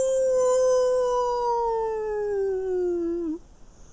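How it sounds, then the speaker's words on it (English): Howling of beasts in a tabletop role-playing game: a single long, loud, mournful canine howl that slowly falls in pitch, then cuts off abruptly into quiet. "And then you hear the howling."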